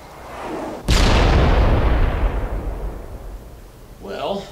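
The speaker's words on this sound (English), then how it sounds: "That there was the M21 SSR MAV AW rocket launcher." A rocket launcher in a video game fires with one sudden, loud blast that rolls into a long, rumbling decay, and a smaller burst follows a few seconds later.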